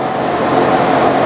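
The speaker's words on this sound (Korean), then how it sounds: "급수 모터들이 지금 쭉 돌아가고 있죠" Inverter-driven water supply pump motors run continuously in a building machine room, giving a steady broadband whirring hum with a constant high-pitched electronic whine and no pauses.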